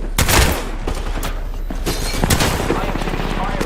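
Gunfire in a video game crackles in rapid bursts, loud and close, with sharp reports and booms over a dense, noisy battle din.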